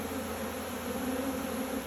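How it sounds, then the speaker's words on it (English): A large honeybee swarm buzzes loudly and steadily, a dense continuous drone with no pauses and no voices. "This is a big, big swarm."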